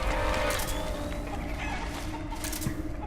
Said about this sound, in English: Get out of here, chickens.